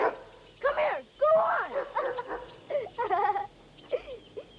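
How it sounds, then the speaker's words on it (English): A female dog yips and barks in short excited bursts while playing fetch, close and loud, with whiny vocal sounds between them. "She's a funny dog. She's a good dog."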